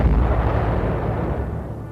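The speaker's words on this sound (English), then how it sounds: "Belfast closed in to fire a last salvo of torpedoes at the crippled Scharnhorst" The cruiser HMS Belfast fires a final torpedo salvo at the crippled battleship Scharnhorst, a loud, deep blast that rumbles on and slowly fades.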